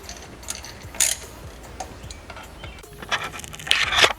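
Scattered clicking and ratcheting of tools tightening the screws on Pioneer car stereo speakers during an install in a Nissan 240sx, with a few sharper clicks near the start and end, fairly close and with no one talking.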